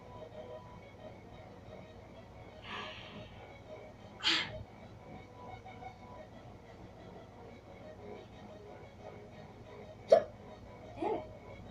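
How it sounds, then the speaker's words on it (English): Someone with hiccups while playing a game lets out a few short, sharp hiccup bursts spaced several seconds apart, fairly faint over a low steady background hum. "Oh my god. Not the freaking hiccup."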